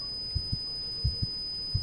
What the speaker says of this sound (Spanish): el latido era cada vez más fuerte, más fuerte